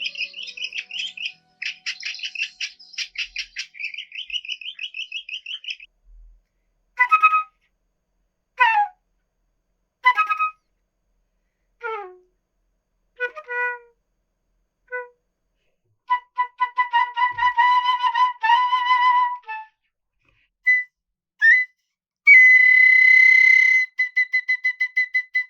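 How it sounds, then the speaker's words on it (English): Flute phrases interpreting bird songs: bright, high, clean whistled notes in trills, short chirps and separated calls with silences between, played solo and fairly close. "she has listened to each of the bird songs and then done her own interpretation of those bird songs with the flute"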